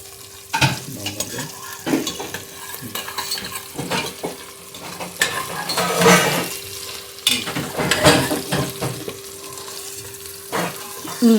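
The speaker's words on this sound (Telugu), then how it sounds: "ఫ్రై చేయి. బ్రౌన్ వచ్చేలాగా." Onions frying in a pan on a home stove, a steady sizzle broken by repeated scrapes and stirring knocks of a utensil against the pan, fairly loud and close.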